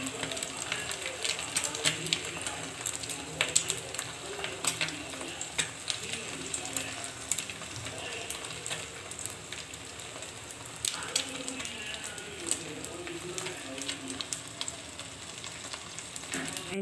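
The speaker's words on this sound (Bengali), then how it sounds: "এই যে আমি এখানে একটা ডিম পোস্ট করে নিতেছি।" An egg frying in a pan gives a steady, close crackling sizzle with scattered sharp pops, running under a voice talking throughout.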